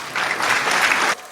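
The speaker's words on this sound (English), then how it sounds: "Can you hear that cheering?" A crowd claps and cheers in a dense, even burst of applause lasting about a second, loud and fairly near, then cutting off abruptly.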